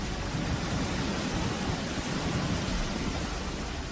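Fierce storm winds tear part of the roof off a cyber technology and engineering college in Huntsville, a steady, dense roaring rush of wind and rain with no break.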